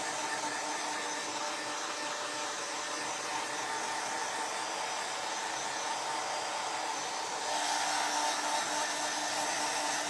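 A hair dryer blows steadily on tacky craft paint, a continuous loud whooshing roar that rises slightly in pitch and strength near the end.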